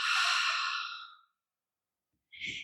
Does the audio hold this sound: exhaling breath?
yes